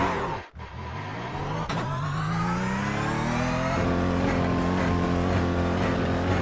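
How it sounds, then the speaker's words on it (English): A Porsche Cup race car in iRacing at Suzuka rises in pitch as its engine draws near and accelerates, then holds a loud, steady drone with a sharp shift partway through. "There's a car approaching."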